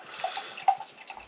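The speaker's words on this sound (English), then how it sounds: "Okay, so there's the beer pouring." Love Lane Brewery beer pours into a glass, a soft bubbling gush with a few brighter splashes, fairly quiet and close.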